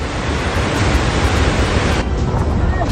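Floodwater released from a dam rushes across a highway in a loud, continuous broadband roar of churning water, steady throughout with no voices.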